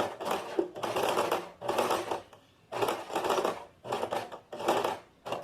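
A sewing machine runs a topstitch close to the edge of a short-sleeved shirt, in several loud rapid bursts of needle chatter separated by short pauses, close up with no talking.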